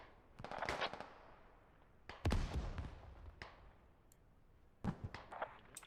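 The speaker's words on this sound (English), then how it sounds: "I just got blown up by something." Explosions in a combat video game set during a Canadian mechanized platoon fight in Afghanistan: several sharp, distant-sounding bursts and crackling blasts, quiet between, with one heavier boom in the middle.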